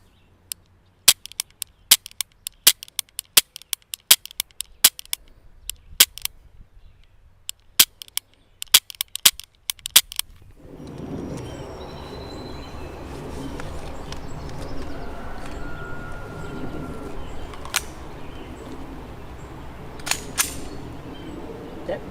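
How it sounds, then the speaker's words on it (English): Sharp shots from an HK P30 9mm pistol ring out in a quick irregular string of about twenty reports over ten seconds, loud and close, before steady outdoor background noise takes over. "So let's take a look at how it shoots"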